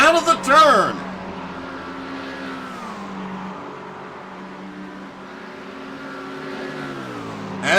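GT3 race cars battling at Le Mans, a McLaren and Fords among them, give a steady, close engine drone whose pitch slowly dips and climbs, opening with a short burst of sharper revving.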